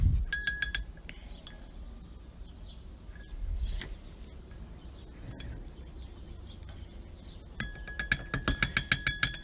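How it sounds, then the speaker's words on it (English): A paintbrush being rinsed in a glass water container gives off bright clinks and taps against the glass, one quick cluster at the start and a denser run of rhythmic clinks at the end, with quiet handling noise between. "I like to use a glass container to have water to kind of rinse my brushes"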